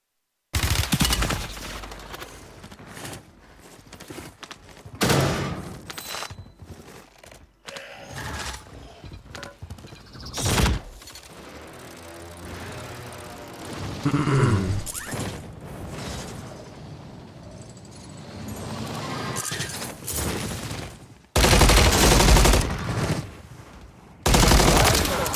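Video game gunfire, loud dense volleys and sharp shots scattered across the span, heaviest in sustained bursts near the end, over busy mechanical clatter and rumbling background noise.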